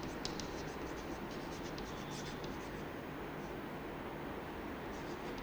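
Pen scratching out a number by hand during a maths lesson, soft rapid strokes close by over a steady background hiss.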